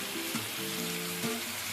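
Chicken and crushed onion fry in a pan for a thecha chicken dish, giving a steady close sizzle with a few faint tonal hums underneath and no talking.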